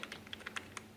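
Computer keyboard keys tapped quickly and lightly while typing code, a faint, close run of about eight clicks in one second.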